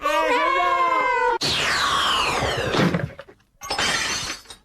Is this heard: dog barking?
no